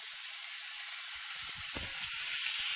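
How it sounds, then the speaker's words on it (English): Minced meat browning in a pot for spaghetti bolognese, a steady, dense sizzle and hiss throughout with faint low knocks and stirring underneath, close by and continuous. "And just thoroughly brown the mince."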